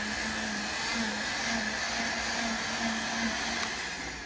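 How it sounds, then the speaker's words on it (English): Garden tiller engine running steadily while tilling soil in a third-year garden, a constant droning mechanical whine with a faint pulsing rhythm, close and unbroken, no talking. "all I have to do is just turn the tiller on and let it do its magic"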